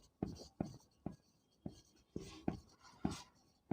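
Chalk writing on a board during a class 12 physics lecture, a series of sharp scratchy strokes in an uneven rhythm, close and fairly quiet, with soft speech between them.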